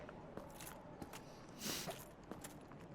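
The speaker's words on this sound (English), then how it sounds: "Frampt making his chewing sounds" Frampt, a huge serpent creature in Dark Souls Remastered, chews wetly nearby: faint, irregular squishy bites and scrapes over a quiet ambient bed, one fuller crunching swell in the middle.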